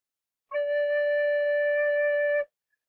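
A single low D note on a recorder, soft and pure, is held steadily for about two seconds before stopping cleanly.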